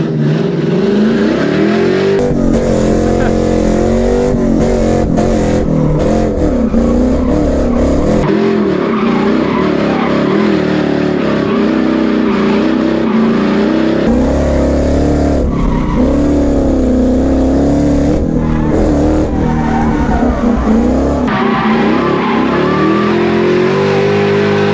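A drift car revs hard while sliding sideways and spinning through 360s on a track, engine howling loud and continuous with pitch swings and tire squeal throughout.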